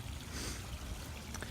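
Gentle trickling water from a garden pond stream in winter, a faint steady burble and dribble heard close with no voices.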